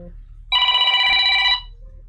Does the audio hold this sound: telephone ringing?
yes